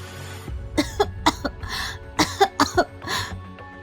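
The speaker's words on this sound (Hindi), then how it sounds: "डर से उसके गले में पानी अटक गया और वो जोरों से खांसने लगी" A woman coughs in a rapid series of harsh bursts, two clusters separated by a short pause, close and fairly loud.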